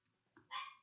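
One short, high yap from a small, aggressive dog, close and fairly quiet, with a faint lead-in sound just before it.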